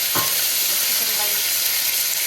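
Chicken frying in a pan for Nepali thukpa, a steady close sizzle and hiss running throughout with a faint stir near the start.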